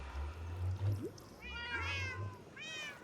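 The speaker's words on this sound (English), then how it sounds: "As you can tell from them meowing their little heads off, I have a lot of cats" Several cats in a Minecraft hardcore world meow repeatedly, with a couple of rising, wavering meows standing out over a low steady hum.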